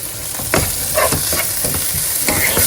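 Sliced green chillies are stirred into a sizzling mixture in a frying pan, with a steady fry hiss and repeated scraping strokes of a spoon against the pan.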